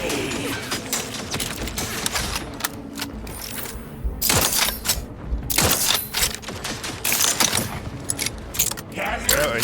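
Dense gunfire and explosions from The Outer Worlds 2 fill the scene with rapid bursts of shots, clattering impacts and booms at close range, with a voice speaking now and then.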